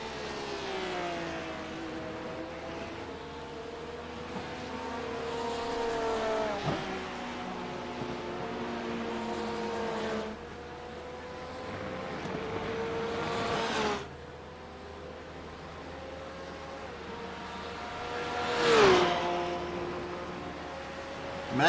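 GT3 race car engines in a racing game at the Red Bull Ring scream through rising and falling gear changes, one car after another sweeping past loud, with a sharp pass near the end.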